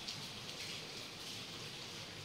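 Steady rain falls outside a home in an even, continuous hiss that stays constant and fairly quiet, with no voices.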